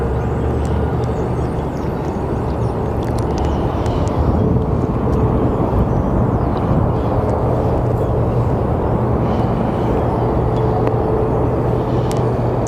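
Airplane landing at Sky Harbor Airport in Phoenix, a steady broadband jet roar that stays loud and close throughout, swelling slightly midway, with no talking.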